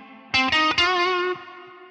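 An electric guitar plays an F on the 10th fret of the G string through distortion and effects, picked a few times quickly and then held with heavy vibrato as it rings out alone.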